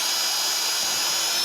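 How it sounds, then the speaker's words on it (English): An electric drill fitted with a Forstner bit bores into wood for a dowel hole, giving a steady, loud, close high-pitched whir that runs unbroken throughout with no talk. "I'll just drill down"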